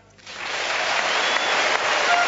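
A capacity badminton crowd bursts into loud, sustained applause for Lin Dan of China as he is introduced, the clapping swelling quickly and holding steady with no clear speech.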